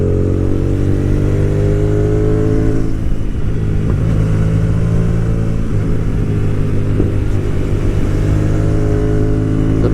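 A Hyosung GTR250R motorcycle engine drones steadily and loudly while riding over a rough, uneven road, with faint clattering from the bumpy surface throughout.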